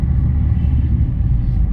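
A car engine running in second gear while driving, a loud steady low rumble held throughout the short stretch with no voices over it.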